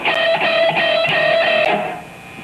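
Electric guitar sustains a bent note in E major, the pitch held and slightly wavering for about two seconds before fading, loud and alone with no talk.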